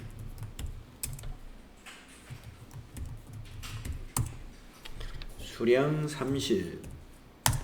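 Rapid clicking of computer keyboard keys during data entry, steady light taps close by under someone speaking Korean, with a few sharper key strikes.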